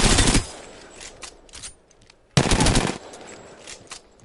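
Two sharp bursts of sidearm fire from Apex Legends, each a short rapid volley loud and close, separated by a couple of seconds of quieter game ambience.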